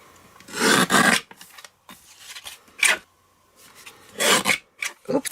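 Cardstock is trimmed down to a small card panel, with several short, dry rasping strokes in bursts separated by brief pauses, close and fairly loud.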